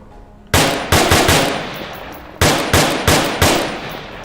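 Bursts of automatic rifle fire from a weapon in the VR shooter Onward, two loud separated volleys of rapid close shots, each a string of about four to five sharp cracks, with no talk.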